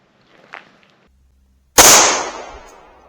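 A single sharp shot from a CZ-75 B pistol firing 9mm Tula ammunition, loud and close, with a bright crack that rings out and decays over a second after a few faint handling clicks.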